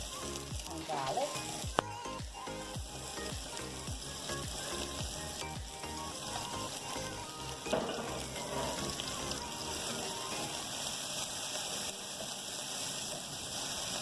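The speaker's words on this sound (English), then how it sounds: "Just have to saute up until a light golden brown" Chopped onions and garlic sizzle steadily in a small amount of hot oil for a curry, a close, continuous frying hiss with occasional stirring clicks and no talking.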